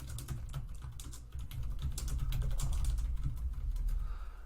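Fingers tap quickly on a computer keyboard, a close, steady patter of clicking keys with a low background hum, rising slightly in density partway through; no one speaks.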